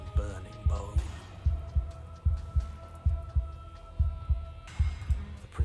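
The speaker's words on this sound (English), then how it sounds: "Her heart beats from its place in her open chest." Slow, steady heartbeat from the video game Slay the Princess, deep low thumps repeating about once a second over a sustained eerie drone, loud and close.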